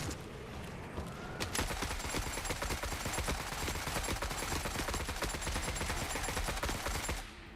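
Sustained rapid automatic gunfire firing cryo ammo in The Forever Winter, a dense stream of sharp cracks over about six seconds, loud and close, with a brief single shot just before the burst and a quick cutoff at the end.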